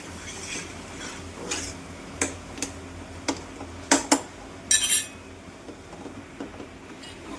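Metal spoon clinking and scraping in a pan while egg bhurji with onion, tomato and masala is stirred, irregular taps and clanks over a faint sizzle, with a few louder clusters near the middle.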